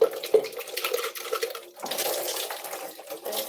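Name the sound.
washing something off with water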